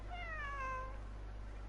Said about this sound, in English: Kitty.